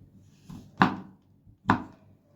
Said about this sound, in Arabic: وتقطعوه كده بالراحه مكعبات كبيره